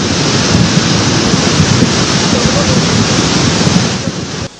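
Flood water rushing from burst riverbanks in Kasese, Kilembe, a loud, continuous broadband roar of turbulent water close by, steady until it cuts off abruptly near the end.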